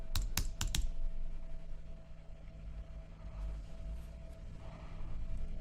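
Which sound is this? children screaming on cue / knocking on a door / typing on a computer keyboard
typing on a computer keyboard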